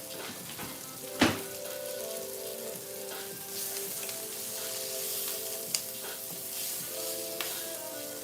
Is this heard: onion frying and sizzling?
yes